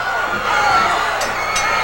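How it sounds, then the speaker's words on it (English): A pro wrestling arena crowd roars in steady, loud pandemonium, a continuous wash of cheering and shouting with a couple of sharper whoops breaking through. "This crowd is in pandemonium."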